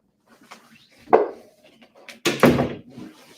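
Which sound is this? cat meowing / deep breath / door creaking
door creaking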